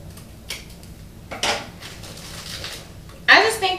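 A bowl set down during candy apple making lands with one sharp clatter near the end, after a few faint knocks and taps of dishes.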